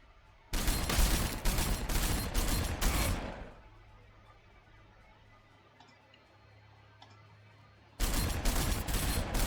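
Heavy bursts of gunfire in the Warhammer 40,000: Sanctus Reach strategy game, Ork forces in battle: a rapid, loud fusillade of repeated shots, a quieter lull with faint ambience, then another loud barrage at the end.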